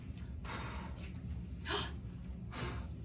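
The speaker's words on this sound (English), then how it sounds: "What if I blow the leaf?" Breath blown onto a leaf, heard as a few soft, airy puffs of close breathy noise rising over a low steady hum.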